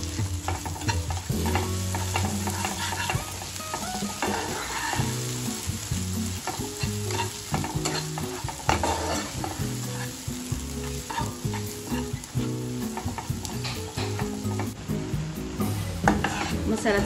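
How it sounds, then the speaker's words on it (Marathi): Homemade black masala fries in oil in a pan for an egg curry, a constant loud sizzle broken by frequent scraping and clinking as a spoon stirs it against the metal; no talking. "मसाला चांगला भाजला आपला."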